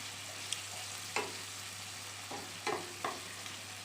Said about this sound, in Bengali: সো এটা 1 মিনিট 2 মিনিটের জন্য একটুখানি নাড়িয়ে নেব